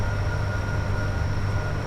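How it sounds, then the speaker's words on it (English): A passing train in the Train Sim World 5 game, heard from the cab of a BLU Class 87 electric locomotive on the West Coast Main Line between Preston and Carlisle. A steady, loud low rumble holds throughout with a thin constant whine above it. "Oh, was that another train?"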